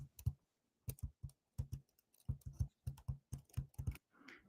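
Computer keyboard keys tapped in irregular bursts of single and double presses, close and crisp with short silent gaps between, used to steer movement like in a video game; no talking.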